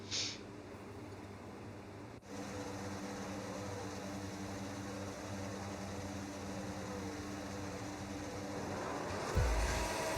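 Simulated Formula 7 race cars sit on the Qatar starting grid in a sim racing game, engines idling in a steady low hum, with a brief click and a louder rev surge right at the end.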